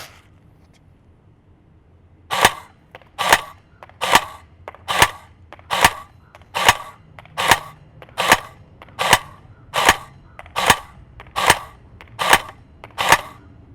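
An LCT AK electric blowback airsoft rifle fires fifteen evenly spaced semi-auto shots, each a sharp snapping crack with a mechanical clack, loud and close, at a steady pace of roughly one every two-thirds of a second.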